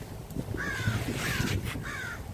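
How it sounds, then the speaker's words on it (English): Outdoors, a crow gives three drawn-out caws at a moderate distance, spaced roughly evenly over a breezy, low rumbling background with no one talking. "Man, this crow probably wants me to give him some food or something."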